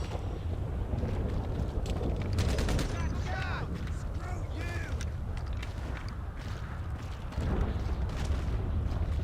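Gunfire rings out in GTA Online on PS5 as a quick cluster of sharp shots, followed by sparser cracks over steady wind-like noise and bird-like cries.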